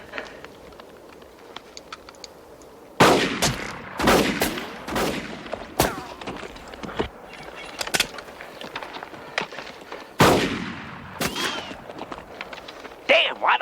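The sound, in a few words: gunshots fired at a large animal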